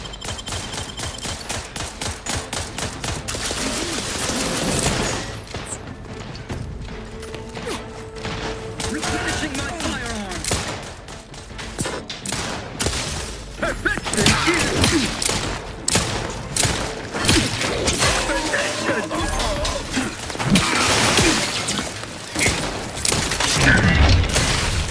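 Weapons fire in The Outer Worlds 2, with dense bursts of rapid gunfire, booms and mechanical clatter running nearly continuously and loudly, with voices talking in between.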